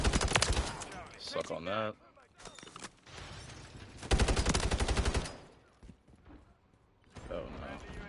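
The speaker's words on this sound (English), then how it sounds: "I like using this gun, the subverter gun." The Subverter rifle fires in rapid bursts during a Call of Duty match, loud and dense, with pauses between volleys and someone talking over the gunfire.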